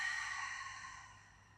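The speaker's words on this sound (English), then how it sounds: "And now let's breathe out." A single soft exhale during a seated Pilates breathing exercise, an airy, breathy sigh close to the microphone that fades gradually over a second and a half.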